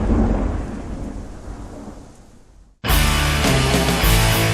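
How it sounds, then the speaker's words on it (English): Loud crashing thunder with a rumbling roll for almost three seconds, cut by a brief silence, then a burst of full, dense sound; part of a baked beans commercial, no talk. "Life is fun when you feel the thunder."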